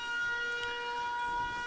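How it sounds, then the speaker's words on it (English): A steady electronic alert siren from a Factorio programmable speaker warning of low power buffer, a sustained tonal wail holding at even loudness throughout with no speech. "That's what that siren's about."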